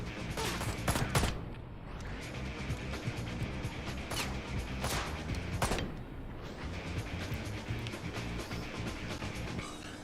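Video game gunfire in Ride To Hell Retribution: loud, rapid bursts of shots crack and echo in clusters over a dense, busy mix of action sounds.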